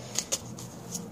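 Romance Angel Oracle cards shuffled by hand in a quiet room, a few quick soft riffling flicks with brief pauses between them.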